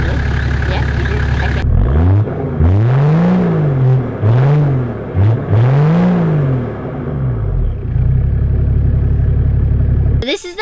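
A Toyota Troopcarrier with a 1HZ diesel engine and a stainless steel exhaust fitted with a muffler and resonator idles, then revs three times in rising and falling sweeps before settling back to a deep idle, loud and close.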